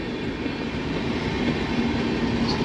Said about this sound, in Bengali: এখন লক্সরের 4 নম্বর প্ল্যাটফর্মে ঢুকলো ডাউন গঙ্গা সুতলেজ এক্সপ্রেস।